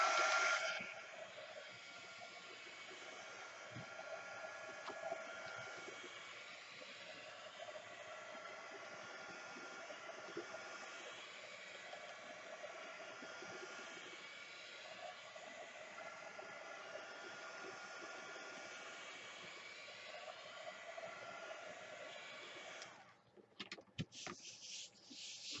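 A drying tool blows steadily on painted paper, a constant loud whooshing hiss with slight wavering that runs for most of the time, then cuts off into a few handling clatters at the end.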